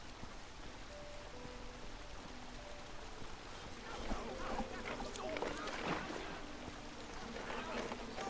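Paddle strokes splashing through water in a video game, soft watery sloshes over a steady ambient bed, growing busier midway, with light background tones and no voices.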